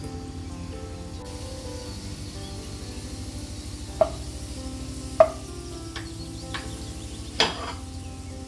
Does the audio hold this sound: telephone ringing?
no